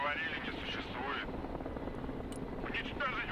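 A helicopter in the war strategy game Broken Arrow gives off a steady, mid-distance rotor drone under battlefield noise, while a voice talks over it throughout.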